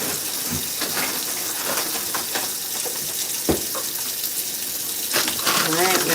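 Cold tap water running into a kitchen bowl of frozen shrimp to thaw them, a steady gushing stream with small clinks and splashes that grows fuller toward the end.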